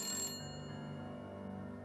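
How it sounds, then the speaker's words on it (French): A telephone rings with a steady electronic tone, clear and alone in the foreground, playing as a sound effect in a spoken story. "quelques instants plus tard, le téléphone sonna à nouveau."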